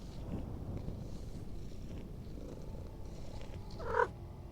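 A cat purrs softly and steadily in a video game, a low continuous rumble that swells briefly near the end.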